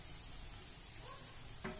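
Drumsticks dropped into sizzling masala in hot oil, with a steady low frying hiss and a brief clatter near the end as the pieces go in, heard close and without talk.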